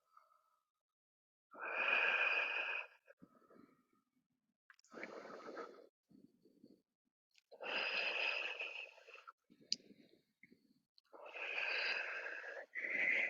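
Deep, slow breaths during yoga poses: four long, airy inhales and exhales with hissy, slightly wheezy edges, close and clear, separated by near silence.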